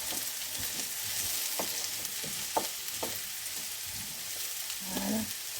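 Duck with clementine cooks gently in a pan, giving a faint, steady sizzle with a few soft stirring taps and no talking.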